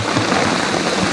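Heavy rain from Hurricane Harvey pours down steadily, a dense, loud, continuous hiss of water striking surfaces with no pauses.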